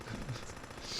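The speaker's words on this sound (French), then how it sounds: "Des petites mitrailleuses." Aircraft machine gun fire in the video game Pacific Storm: a steady, rapid burst of gunfire heard fairly faintly with no talk over it.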